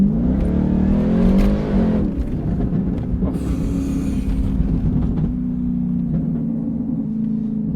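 A 670bhp Jaguar XFR-S engine driving on the road, loud and close, revving up hard then settling into a steady droning rumble as the car cruises, with no talk.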